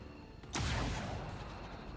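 A soldier fires a shot in the XCOM 2 video game, heard as a single sudden loud gunshot boom followed by a sustained rumbling tail, with no talk over it.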